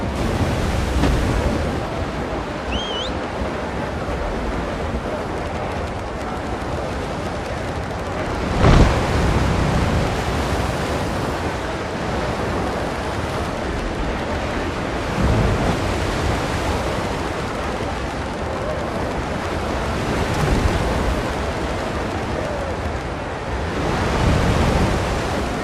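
Sailing ship at sea in Windrose, a steady roar of waves and wind with periodic louder surges of surf breaking, close and continuous, no talk.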